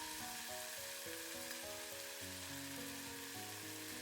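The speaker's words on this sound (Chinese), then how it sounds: "把牛肉末也下锅，用筷子迅速的把肉末炒散" Beef mince stir-fries in a wok with a little oil, scallion, ginger and garlic, sizzling steadily while chopsticks scrape and toss it in quick irregular strokes; no one speaks.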